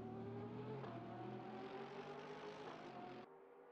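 A Porsche 912 race car engine hums steadily at constant revs in a GT3 racing sim game, a layered harmonic drone that drops abruptly near the end as the car passes the line.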